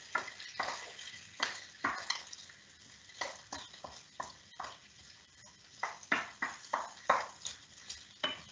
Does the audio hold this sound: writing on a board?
no